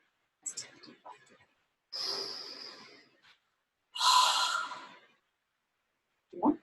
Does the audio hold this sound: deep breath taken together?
yes